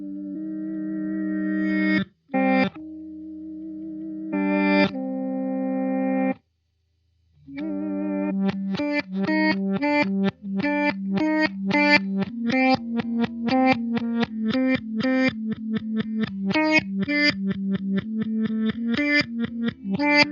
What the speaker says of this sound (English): Next up, we've got the reverse delay, modulation rate, and modulation depth.